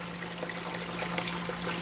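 Water rushing through a gold sluice during a sluicing session, a steady close splashing trickle with bright sparkling texture and no talk.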